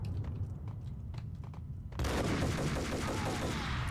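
Gunfire in the video game Max Payne, a burst of sharp shots peppering a quieter stretch, then a sudden loud sustained volley of rapid fire.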